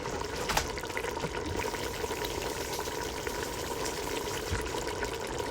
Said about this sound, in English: So I'm going to add 3/4 of a can of water to the can so we can get the leftover tomato sauce